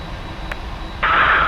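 PMDG 747 engines running on the stand in a flight simulator, a steady airy whine that swells louder near the end, with a brief click partway through and no talking.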